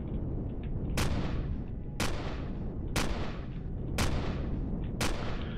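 Repeated gunfire in the space survival game Empyrion Galactic Survival, five sharp loud shots about one second apart over a steady low rumble, each trailing off briefly.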